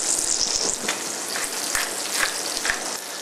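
Delicate meat sizzles in a hot pan in a restaurant kitchen, a steady close frying hiss with small pops and a few soft clicks of utensils.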